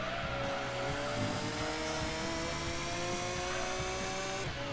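Engines of a Vector M12 and a Jaguar XJ220 race car in the Gran Turismo 2 video game drone steadily with rising harmonic whines, loud and continuous throughout, with no talking.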